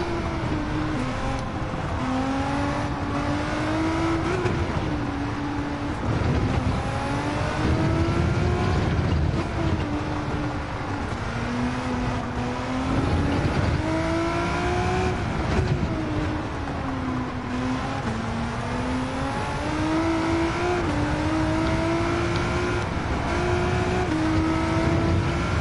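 Race car engines, including a Lamborghini Aventador, in the video game Gran Turismo 7 drone continuously, the pitch repeatedly climbing and dropping through gear changes over a steady, loud mechanical roar.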